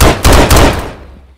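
Loud, close video-game gunfire in Minecraft: three rapid bursts in quick succession that trail off into a short decay.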